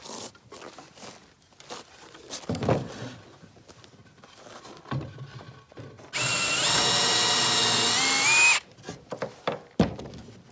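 A power drill drives small screws into a homemade wooden bird feeder, with one loud, close, steady whirring burst of about two seconds set among quieter handling clatter and knocks.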